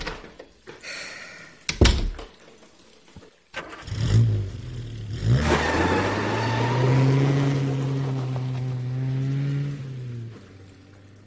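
A car door thunks shut, then the engine starts and revs as the car pulls away, a steady mid-pitched motor tone holding for several seconds before fading, no talking.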